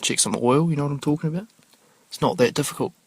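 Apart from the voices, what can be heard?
No everyday noise stands out behind the speech.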